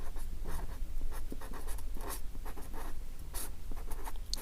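Steady scratching of a pen or chalk writing out a Euclid division step in a Class 10 maths lesson, many small strokes and taps over several seconds, close and soft above faint background hum, no speech.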